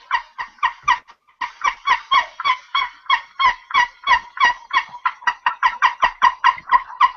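Wild turkey calls out in a field, a long run of close, loud, rapid clucks and yelps in a steady rhythm with one short pause near the start.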